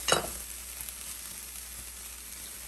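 Green and yellow peppers and red onions hit hot olive oil in a pan with a brief crackling burst, then settle into a steady, quiet sizzle that runs on without any voices.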